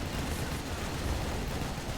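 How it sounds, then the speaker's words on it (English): A fully upgraded Overlord tank's Gatling cannon fires in the Rise of the Reds strategy game amid a dense, continuous roar of battle gunfire, loud and unbroken. "a fully upgraded Overlord with Gatling cannon"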